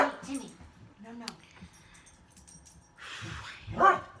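A Yorkie barks and whimpers indoors in short yips and whines, close by, with a person talking over and between the sounds.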